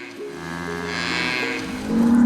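A herd of cows in a riverside floodplain meadow in Latvia, with a drawn-out, fairly close lowing moo that rises into a louder call at the end, with no talk over it.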